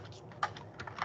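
Someone types on a computer keyboard, giving a short, faint burst of quick key clicks.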